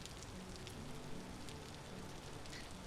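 Steady rain in the survival game Vintage Story, a continuous soft patter of drops on the ground with faint crackle, even and unbroken throughout, no talking.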